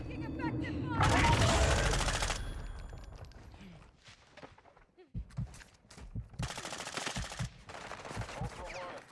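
Gunfire in the DMZ video game: a long loud burst of automatic fire, then a pause with a game radio voice, followed by several sharp single shots and more rapid bursts, close and punchy.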